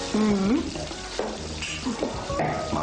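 Food sizzling and frying in a pan, a steady crackling hiss that runs through the whole stretch, with a few brief voiced sounds over it.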